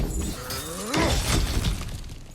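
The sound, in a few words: objects being smashed in video game God of War Ragnarok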